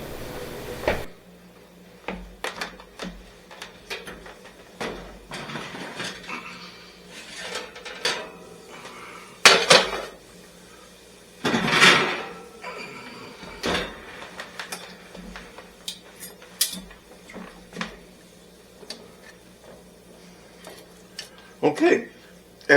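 Roasting pan of carrots pulled from a kitchen oven: scattered metallic clanks and scrapes of the pan, an oven door knock and rack rattle, close, with a person talking between the sounds.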